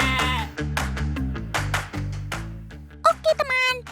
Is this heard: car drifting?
no